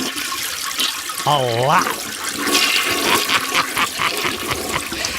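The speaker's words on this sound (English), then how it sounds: "I start flushing the toilet." A men's room toilet flushes with a loud, continuous rush of water that gurgles and drains, and a voice speaks briefly partway through.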